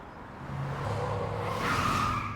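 A car driving fast during an anime chase scene, its engine rising to a loud, sustained roar that swells and grows brighter toward the end, with no talking over it.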